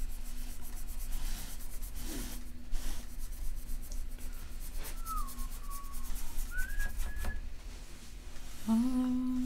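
A pen or brush scratches and rubs on paper in repeated small strokes while someone draws or paints, with faint whistle-like tones and background noise in a quiet room.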